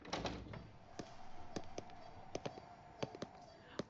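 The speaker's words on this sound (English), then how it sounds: "All right, I'll get the door." A door being opened at an office front desk: a run of faint clicks and knocks, a latch-like rattle and a sharper bump at the end, quiet with no voices.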